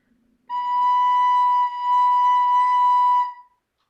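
A clear, whistle-like sustained musical note B sounds alone for about three seconds, with a brief dip midway, then stops cleanly.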